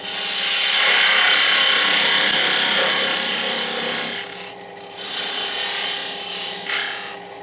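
A wooden egg spins on a wood lathe while a fine 1/16-inch parting tool cuts into it, giving a loud, continuous scraping hiss that eases and changes texture partway through, with no talking.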